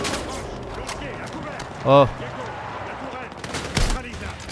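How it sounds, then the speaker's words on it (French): Gunfire and explosions from the Battlefield 6 campaign at Gibraltar rumble in the background, with a few sharper blasts standing out, while someone speaks briefly over the game. "Oh là là, toutes ces explosions"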